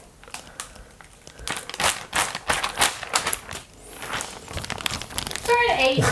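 Protective plastic film crackles and crinkles as it is peeled off a BitFenix Dawn TG tempered-glass PC case, a long run of close, irregular sharp crackles rising toward the end.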